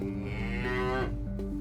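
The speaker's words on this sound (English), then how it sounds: "have located the cow causing havoc around" A cow on the loose near roads on the North Kent coast moos in one long, loud, harmonic call that wavers and falls, close by and alone.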